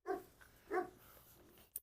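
A young dog gives two sharp, excited barks close by, with a softer whimpering yip in between, and then a brief click at the end.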